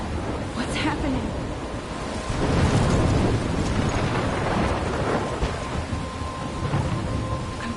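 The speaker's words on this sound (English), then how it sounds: "I'm trapped in a storm?" A game storm in Life is Strange: heavy rain pouring steadily with deep rolling thunder swelling loudly midway, dense and enveloping throughout.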